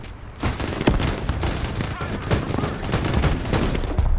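Sustained gunfire in the Broken Arrow war game, dense overlapping volleys and sharp cracks filling the whole stretch at close, loud level, with some voice under the shooting.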